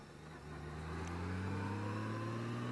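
A car on a test ride, fitted with Vololights, coasts with no braking; its engine gives a steady, fairly quiet drone, with no voices.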